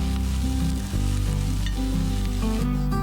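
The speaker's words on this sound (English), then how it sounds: "Fry them just until it loses the raw smell and turns slightly translucent." Chopped onions frying with curry leaves in a pan for a mung bean sprouts salad, a steady close sizzle that holds fairly level throughout with no talking.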